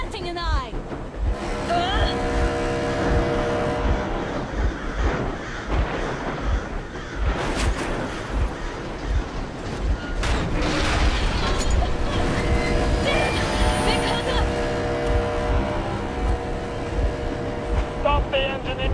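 Steady rumbling train engine drive in Metro Exodus, a continuous mechanical drone with clanking rail noise underneath, loud and close, with voices speaking over it throughout.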